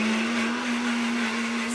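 A blender grinds spice paste for fish, a loud, close, steady motor whine that runs unbroken for the whole moment.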